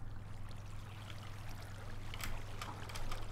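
Steady flowing water in the Minecraft Amplified world, a continuous trickling stream with soft splashy highs, faint and close, with no talking over it.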